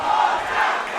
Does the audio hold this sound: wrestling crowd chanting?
yes